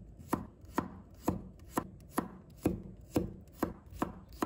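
A knife slices garlic cloves into pieces on a cutting board, with nine crisp, evenly spaced chops about half a second apart, close and clear with no talking.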